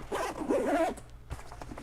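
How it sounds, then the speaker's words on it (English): A backpack zipper for a Teradek Link Pro system is drawn shut in one quick, close rasping pull lasting under a second, followed by a brief soft click and rustle. "And then if we zip this back up"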